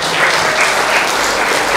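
A church congregation claps and cheers together for God during a revival service in Semarang, a dense, loud, steady wash of applause filling the room.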